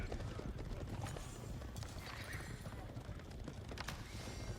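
Horses in a strategy video game clop and whinny faintly, a steady patter of hooves under a busy, noisy game mix with occasional neighs.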